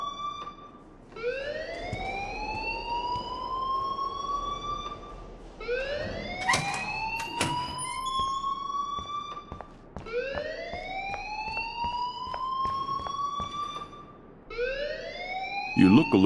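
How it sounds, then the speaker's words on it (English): School alarm in Life Is Strange wailing in three long rising sweeps, each climbing then holding, loud and close with a brief gap between cycles, with talking underneath. "please turn off that alarm since that's your job"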